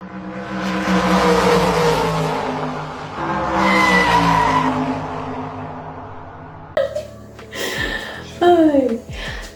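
Car skidding with drawn-out tire squeals during a street race, several long screeching sweeps that grow sharper and more broken toward the end, with loud voices or engine tones mixed in throughout.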